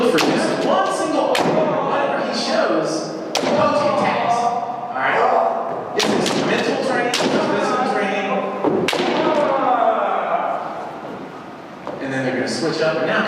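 Bamboo shinai smacking armor in kendo sparring practice at a convention demonstration, sharp loud strikes at irregular intervals with stamping and kiai shouts, under someone narrating throughout.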